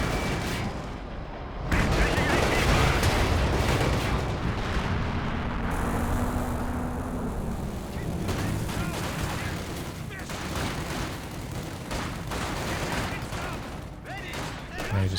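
Tank and anti-tank guns firing in Company of Heroes 2, with a KV-8 tank and two anti-tank guns in battle, giving dense, continuous rumbling gunfire and blasts throughout, loud and close, with a brief quieter gap near the start.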